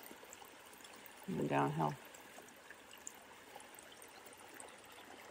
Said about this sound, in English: Nice babbling brook.